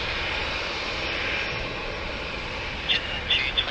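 An Emirates EK412 jet roars steadily on its takeoff run at Sydney Airport, a broad sustained engine rush heard from a distance, with a few brief higher chirps near the end.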